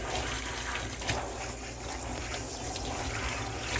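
Water runs steadily as dye is rinsed out of an English Springer Spaniel's coat. The rush and splash is continuous and fairly soft, with no voices.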